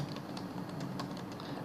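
Keystrokes on a computer keyboard as a file name is typed, a quick irregular run of close, fairly quiet clicks over a low steady background hum, with no talking.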